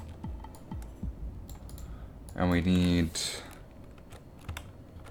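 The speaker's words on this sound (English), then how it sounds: "I keep typing the name of the new state into the search field" Quick, light keystrokes on a computer keyboard during a game development session, scattered clicks running under a voice that speaks, with a louder tonal burst midway.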